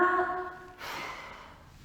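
A brief voiced tone gives way to a long, soft, breathy exhale out through the mouth during a postnatal breathing exercise, close and quiet, fading away gently.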